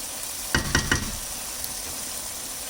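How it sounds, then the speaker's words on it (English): Prawn biryani gravy simmers in a pan with a soft, steady sizzle, broken by a few quick knocks or stirs early on, no voices. "Now just let the whole thing simmer for about 5 minutes and your gravy is ready."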